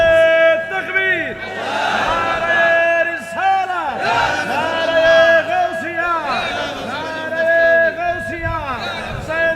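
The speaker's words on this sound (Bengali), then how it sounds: "স্লোগান দেয়।" Large crowd at an Islamic religious gathering (mahfil) chanting slogans in unison, loud, close and sustained, with repeated swells of massed voices and no separate speaker.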